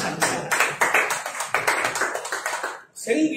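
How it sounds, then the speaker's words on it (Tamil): A church congregation claps hands together in a burst of rhythmic, fairly loud claps during a Tamil Christian sermon, with a preacher's voice and crowd noise mixed in. "கையை தட்டுங்க"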